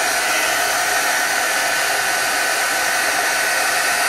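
A hair dryer runs steadily and loudly throughout, drying a homemade colored craft spray, its broadband whoosh constant from start to finish with no talking.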